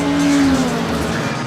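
A Trabant race car corners on a circuit, its small engine droning loud and steady close by with a sustained tonal whine running through the whole stretch and no talk over it.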